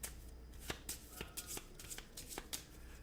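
Elizabeth cards for the Grand Austria Hotel board game being shuffled by hand, giving quick soft riffling flutters and light taps, close but quiet, with no talking.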